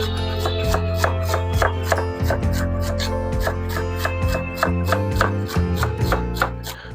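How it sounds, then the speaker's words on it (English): Chopping celery into chunky pieces for a turkey vegetable soup: a steady run of sharp knife strikes on a cutting board, close and fairly loud, with no talking. "And go ahead and chop it up a bit too."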